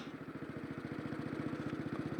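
A Velocette MSS 500 single-cylinder motorcycle engine runs with a rapid, even thumping pulse, close and steady from start to finish, alone with no voices.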